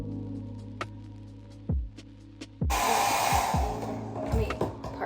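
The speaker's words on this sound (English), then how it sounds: "back to the blow drying" A hair dryer blows on hair, first a low hum broken by a few thumps and clicks, then a loud steady airy roar for the last couple of seconds, with handling bumps underneath.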